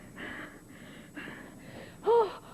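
A woman in labour breathes heavily through a contraction in a hospital, with a series of rhythmic, close breathy exhales. A sharp, louder voiced gasp comes near the end.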